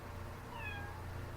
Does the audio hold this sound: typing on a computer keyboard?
no